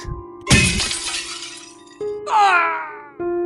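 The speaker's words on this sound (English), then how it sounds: "he threw his body against the window on the 24th floor to prove the durability of the glass" Window glass on a 24th-floor office tower shatters loudly as a man throws himself against it, a close burst of breaking glass followed by a ringing, bell-like metallic tone and a steady hum.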